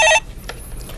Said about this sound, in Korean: 전화 받아보겠습니다